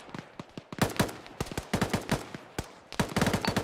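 Gunfire in the military shooter Arma crackles in rapid bursts and scattered single shots, fairly close and sharp, with irregular volleys overlapping through the whole stretch.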